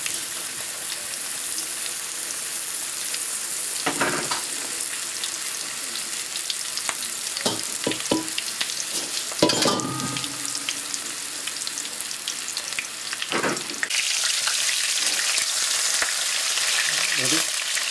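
Lamb shanks browning in hot oil in a pan for braising, a loud continuous close sizzle with crackles and occasional bursts as the meat is moved, no talk.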